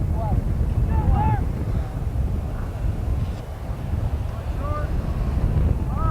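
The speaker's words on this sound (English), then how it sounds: "Wind blowing in from right field." Wind blowing across an outdoor high school baseball field, a loud, blustery rumble buffeting the microphone throughout, with faint distant voices carrying over it.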